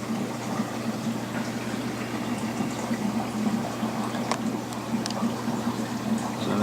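A pump churning water in a 55 gallon reef tank, a steady bubbling, gurgling flow with a low hum underneath, continuous and moderately loud, with no talking.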